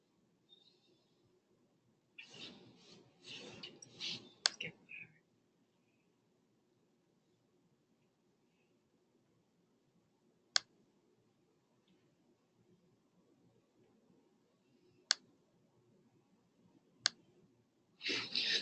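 Sparse, sharp computer mouse clicks spaced several seconds apart in a quiet room, after a brief burst of faint rustling and handling noise near the start.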